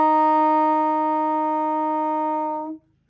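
Low C sustained on a band instrument, a single steady, clear tone held for nearly three seconds before stopping cleanly, alone with no talking.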